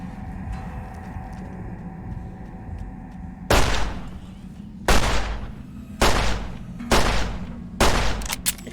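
Five loud, sharp gunshots from a Fallout: New Vegas firefight, spaced about a second apart over a low, steady game background hum, with no talking.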